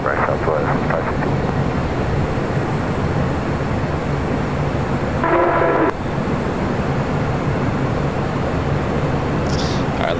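Airbus A320 airliner at Los Angeles International Airport, a loud continuous jet engine roar that holds steady throughout, with a brief tonal burst midway and a voice talking over it.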